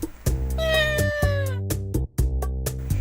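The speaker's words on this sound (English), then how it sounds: "I looked up and spotted the black cat inside the salad bowl along with the food" A black cat in the video game Dandelion lets out a loud, drawn-out meow, followed by a string of short, bright game sound effects. No voices.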